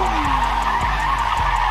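A car drifting with too much throttle: a loud, close engine roar with tires squealing and skidding continuously, punctuated by a few rhythmic thumps as the rear slides.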